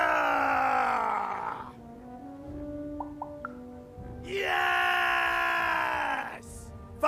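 Battle-cry screams from the video game Lost in Random: two long, strained shouted wails from a character, the second louder and brighter, separated by a quieter stretch of low game ambience with a few soft chimes.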